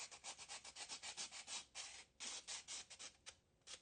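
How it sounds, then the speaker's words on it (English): A coated Gessobord panel with a cold press ground is sanded along its edges by hand, giving a steady run of rapid, close-up abrasive strokes in quick rhythm with brief pauses. "And it sands off the edge pretty easily."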